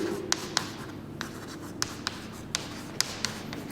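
Chalk or pen strokes on a classroom board during a Hindi physics lesson, a string of short, sharp taps and scratches in uneven rhythm, close and fairly quiet over a low room hum.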